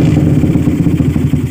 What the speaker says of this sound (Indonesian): Ya, motor sudah menyala.